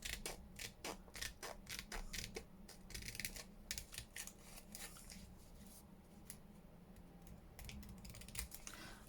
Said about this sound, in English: I'll just follow this seam round and just cut it on both sides so you can get to the pocket either side